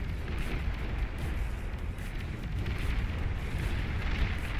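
Dense, continuous rumble of many missile explosions in the real-time strategy game Beyond All Reason during a Tech 3 stage nuclear 1v1 battle, a steady roaring barrage of overlapping booms with no clear gaps.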